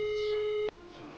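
A steady electronic tone from a mobile phone on a call, held loud and unbroken for well over half a second before cutting off abruptly, followed by quiet background.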